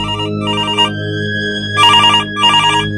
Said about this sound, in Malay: tiba-tiba kedengaran telefon rumah berbunyi